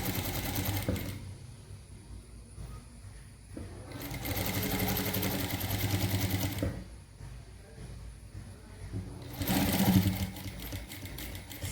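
A sewing machine stitches a puff sleeve in three long bursts of rapid mechanical whirring, each separated by short pauses. It is close and steady, and faint talk sits underneath.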